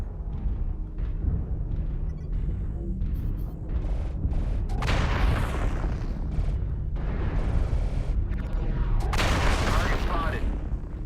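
Video game gunfire at close range comes in repeated loud bursts and booming blasts over a low rumbling bed of battle noise, with a voice talking in places.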